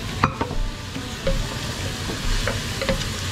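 Vegetables, including hard vegetables and squash, stirred in a cooking pot: close, irregular scraping and knocking strokes over a soft bubbling background, with no talking.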